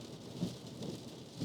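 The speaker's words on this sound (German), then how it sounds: "Es regnet einfach wirklich wie Sau." Heavy rain beats on a car during a road trip, a dense steady roar of water with low rumbling swells underneath, loud and continuous with no voices.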